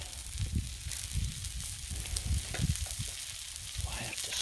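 Beyond Meat Italian sausages sizzle steadily on a Blackstone griddle, a continuous close crackle and hiss with soft low thumps of handling underneath.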